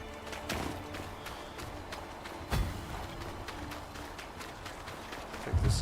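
Heavy footsteps of the glass tail creature, a large beast in the Eternal Strands video game, thud in a loose rhythm over ambient game noise, with one louder impact midway and a rumble near the end.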